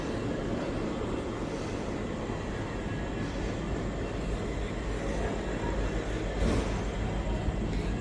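Steady low rumble and hum of a railway station standing nearly empty, with a constant broadband wash and a faint, brief bump of activity near the end, no voices.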